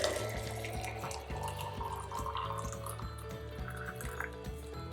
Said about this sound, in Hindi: और फिर ये जो ग्लास का बॉटल है इसमें मुझे डालना होगा हॉट वाटर।